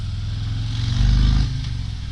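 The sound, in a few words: Harley Davidson Fat Boy Special motorcycle engine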